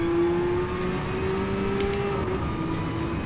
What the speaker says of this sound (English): Gear changes take so long in Group C cars.